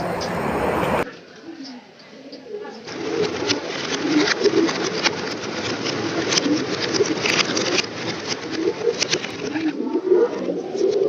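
Pigeons coo and flutter in a pigeon farm loft, a dense, continuous chorus of close birds throughout.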